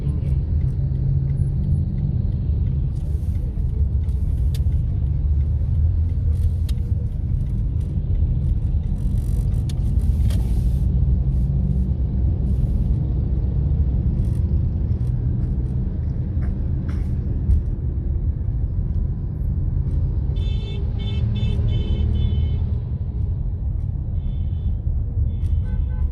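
Heavy road traffic on a busy Sunday street in Lahore, heading toward Iqbal Town and Johar Town, produces a loud, constant engine rumble with passing vehicles and scattered horn toots.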